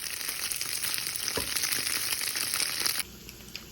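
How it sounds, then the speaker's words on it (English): Tofu fries in oil in a pan with a steady, dense crackling sizzle, close and loud, and a soft scrape of stirring partway through before the sizzle drops sharply near the end. "I'm going to cook up my tofu in the oil just so it gets a little nice and crispy."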